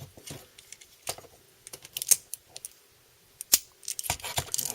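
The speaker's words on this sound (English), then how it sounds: "And now you're able to click his window in, if you can get it." A plastic toy window piece being pressed into place on an Optimus Prime figure, a series of small sharp plastic clicks and taps, close and irregular, with a few louder snaps.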